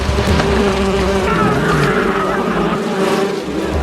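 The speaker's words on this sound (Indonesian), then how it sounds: "Lebah-lebah itu pun mengerubungi mereka" A dense swarm of bees drones and buzzes continuously, loud and close, as it attacks people in a jungle film scene, with a steady busy hum filling the whole stretch.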